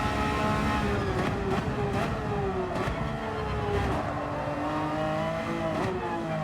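A non-turbo Porsche 911 GT3 R (992) race car at Lago Maggiore, its engine revving hard and loud with repeated upshifts and throttle changes, brief sharp bursts between gears, and a steady drone throughout.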